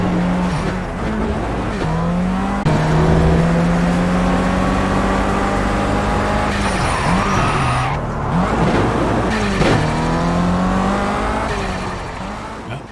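Race car engine in a PCVR sim racing game, loud and close, climbing through repeated rising revs with gear shifts and tire squeal, no talk.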